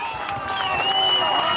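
Home crowd at a Benson Bobcats high school varsity baseball game against Bisbee chanting and cheering, a loud, rising, rhythmic roar with clapping, mixed with a commentator's voice.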